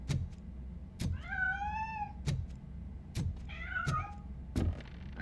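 A cat in the video game Robocop: Rogue City gives two drawn-out, wavering meows over heavy rhythmic thuds of footsteps, fairly close and loud with no talking.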